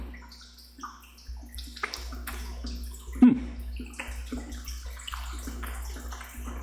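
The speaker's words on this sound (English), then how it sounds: "I took the lid off of it specifically to pour this stuff into" Liquid pours from an opened can into a container, a steady splashing gurgle with small sloshes and a brief clunk midway, close and fairly quiet.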